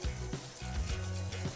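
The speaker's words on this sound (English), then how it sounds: "I just finished a quick rinse" Cool water runs and splashes over nuts in a plastic sprouter, a steady close rushing with gurgling pulses, no voices.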